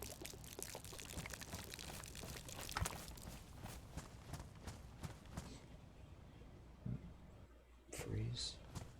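Water poured out of a container in DayZ, a sloshing pour over several seconds mixed with footstep-like thumps, with game ambience continuing after the pour ends.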